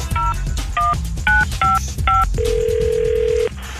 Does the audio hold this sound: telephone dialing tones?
yes